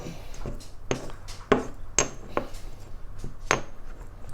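A spoon grinding and mixing salt with ash in a bowl, a series of sharp scraping clinks at an irregular, roughly half-second rhythm over a gritty rasping background, close and fairly quiet.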